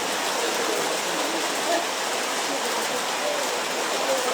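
Rain falls steadily in Córdoba, a constant hiss of drops on surfaces that holds evenly throughout with no break.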